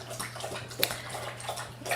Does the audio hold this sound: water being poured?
yes